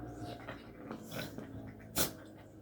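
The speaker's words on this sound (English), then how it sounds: "my dogs are play fighting" Dogs play-fight close by, making low growls, snorts and huffing breaths with a sharp yelp near the end, over a quiet indoor background.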